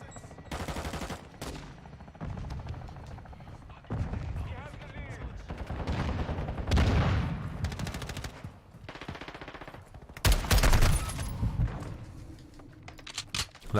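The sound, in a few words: gunfire from Modern Warfare 2 video game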